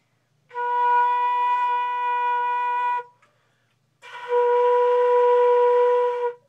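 Flute sounding a B flat in two sustained tones, each lasting a couple of seconds with a short silent gap between, clear and steady with a slightly breathy edge, heard during a beginner lesson.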